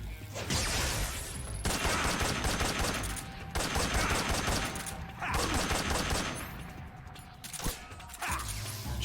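Gunfire in Metal Gear Solid 3 comes as dense rapid bursts of shots, loud and close, broken by brief pauses and mechanical weapon clicks and creaks.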